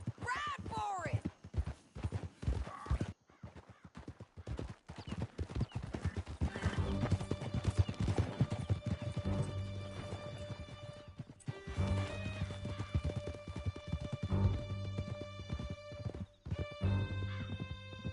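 Horses galloping in a dramatic scene, a fast rhythmic clatter of hooves mixed with whinnies, shouts and music, loud and continuous.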